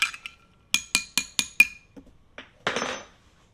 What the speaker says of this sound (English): And we're going to give this a stir. I got a lot of ice in here